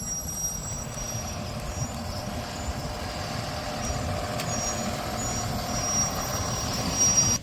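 A city bus idles with a deep, steady engine rumble while it waits to turn, with faint hisses and high tones above the drone and a slight rise in loudness near the end.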